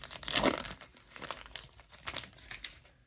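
Foil trading card pack for 2024 Prizm Draft Picks being torn open up close, several short crinkling, crackling rips of wrapper in quick bursts, quiet and without talking.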